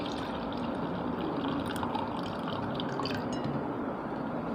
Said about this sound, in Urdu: اس کو ہم نے ایک الگ برتن میں ایسے پانی کو نکال لینا ہے